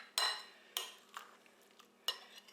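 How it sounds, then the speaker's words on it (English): A utensil stirs coconut in a medium-sized bowl, making three or four distinct scraping, clinking strokes, close and moderately quiet, with softer scrapes in between. "Pour in the coconut. Get it stirred up in there."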